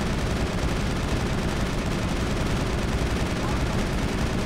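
Sustained automatic gunfire from an overheating weapon in the Mass Effect video game, a dense, continuous stream of rapid shots with no pause, loud and steady throughout.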